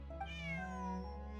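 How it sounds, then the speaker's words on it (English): Bonnie, Pierre's cat, in Genshin Impact, giving one clear, drawn-out meow that rises and falls, close and alone. "Bonnie is Pierre's cat."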